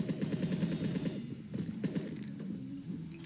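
Rapid rattling gunfire in Black Ops 3 zombies mode, quick repeated shots in short bursts at moderate loudness, with a sharper crack around one and a half seconds.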